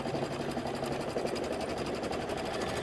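A sewing machine stitching quilt blocks for a table topper, running at a steady fast rhythmic chatter for the whole stretch, close and moderately quiet, with no talk.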